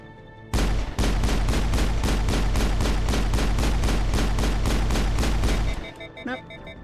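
Rapid sustained gunfire from the 2007 video game Mass Effect, a loud, steady burst of rounds lasting several seconds before it cuts off into quieter game sounds.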